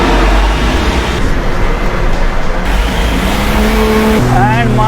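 An off-road three-axle vehicle pulls away in first gear, its engine a loud steady rumble with rising drone from inside the cab, and a person speaks over it.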